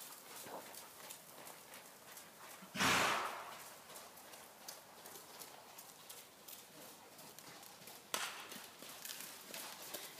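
A horse named Lucas trots energetically under a rider, its hooves beating in a steady rhythm at close range. A loud rush of breath or snort cuts in briefly, and a second sharp burst follows later.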